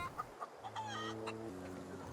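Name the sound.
chicken clucking in video game The Outer Worlds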